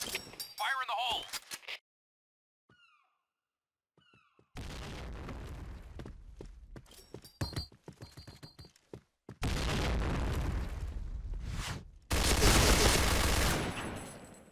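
Bursts of gunfire and explosions from the online shooter game Piercing Blow come in loud clustered volleys separated by quiet gaps, with short shouted voice lines early on.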